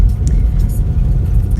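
Car cabin rumble while driving a rough road into the Pyramid Point housing development in St Ann, Jamaica, a loud, steady low engine and road drone with faint bumps.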